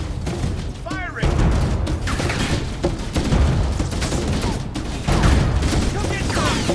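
Sustained gunfire from a stationary mounted gun in Halo: Combat Evolved, a loud, dense fusillade that carries on throughout, with voices calling out over the battle noise.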